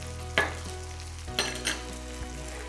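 A crushed garlic clove fries in oil in a skillet for chorizo potato hash, a steady background sizzle cut by a couple of sharp clatters and scrapes of a utensil against the pan, close and without talk.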